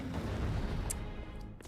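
A Nintendo video game explosion rumbles low and heavy, a booming blast that fades with a few crackling pops toward the end, no voices over it.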